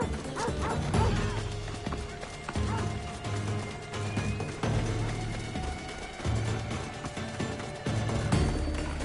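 Dog barking in the video game Assassin's Creed Odyssey, repeated loud barks over a dense, continuous game soundtrack with low music and clatter throughout.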